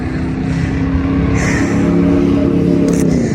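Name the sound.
truck passing by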